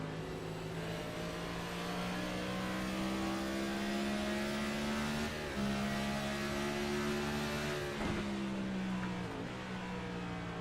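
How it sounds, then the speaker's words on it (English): Cup Series race car engines drone loudly and close in a sim racing game, their pitch climbing steadily through a straight, then dropping sharply around 5 and 8 seconds as the cars downshift into corners, with no voices. "These Cup cars are downshifting every corner into 4th"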